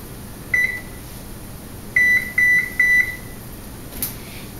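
An electric kitchen oven beeps as it is switched to broil: one short electronic tone, then a pause and three quick beeps in a row, fairly clear over a quiet room hum.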